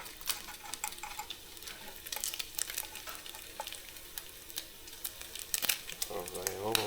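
Breakfast frying in a pan on a stove inside a yurt, cooking too fast: soft crackling sizzle with scattered pops and spatula scrapes, fairly quiet, a person talking in between.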